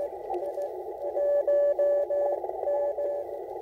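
A steady, loud Morse code CQ call keyed as a sidetone on an Icom IC-705 transceiver during a portable CW activation at Elk Knob State Park, with crisp on-off beeps of a single pitch in a rapid rhythm and no talking.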